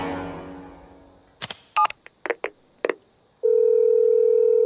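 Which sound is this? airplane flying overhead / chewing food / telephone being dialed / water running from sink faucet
telephone being dialed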